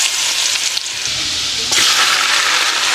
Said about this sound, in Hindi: गरम ऑयल में लहसुन को ऐड करते ही ब्राउन होने लगता है